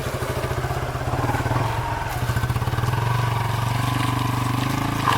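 A motorcycle engine labours uphill in first gear on a rough jungle track in Duarsini forest, its steady, throbbing drone rising slightly as the climb continues, close and loud.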